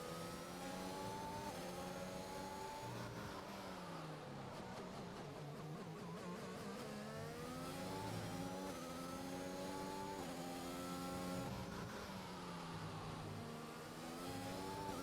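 Race cars in F1 2021 rev and accelerate continuously, with layered engine tones rising and falling through gear changes at the Spanish circuit, loud and steady with no voices present.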